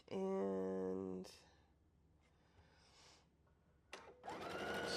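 A home sewing machine stitches quilt block fabric pieces, a loud steady mechanical whir running briefly at the start, then stopping, with soft handling noises and a quick burst of whirring again near the end.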